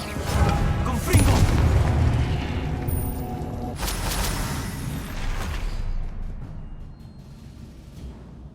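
Confringo blasting spell from Hogwarts Legacy erupting in a loud, dense explosive burst with crackling debris and a second blast, then a rumbling decay into quieter tail; close and full, with game ambience underneath.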